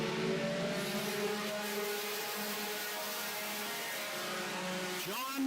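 Four-cylinder race cars roar around a short oval track in a final heat race, engines droning loudly and steadily as they pass, with a rising whine near the end.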